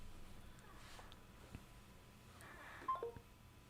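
Brief electronic phone tones sound faintly as a call is placed to reconnect a dropped podcast guest, a short cluster of beeps standing out against a quiet room background.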